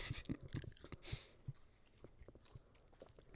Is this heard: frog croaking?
no